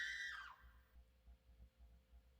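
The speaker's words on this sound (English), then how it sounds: "that scream scared me" A short high scream in the video game Danganronpa Another falls away within half a second, leaving faint low pulsing rumbles.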